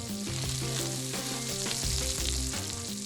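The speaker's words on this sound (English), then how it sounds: "Melt butter in a skillet and saute 1/2 pound of fresh chorizo sausage, a small onion, and a couple of chopped jalapeno chilies." Fresh chorizo sausage, a small onion and chopped jalapeno chilies sauté in melted butter in a skillet, giving a steady, dense sizzle that continues throughout without pause or voices.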